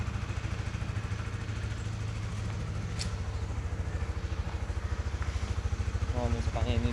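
A Honda CBR 150 motorcycle engine, a standard red K45R model, idles steadily nearby with a fast, even throbbing pulse, while someone talks over it.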